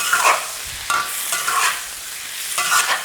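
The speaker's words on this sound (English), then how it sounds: "And this high heat for my introduction of the tofu into the wok is quite important" Tofu stir-frying in a hot wok with ginger paste, loud close sizzling broken by several scraping stirs of a utensil against the wok.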